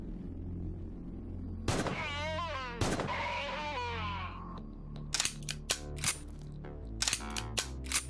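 Gunfire in the video game Quasimorph: a pair of sharp, loud shots early on, then after a warbling tonal effect fades, rapid clusters of crisp shots crackle in quick bursts, with no talking.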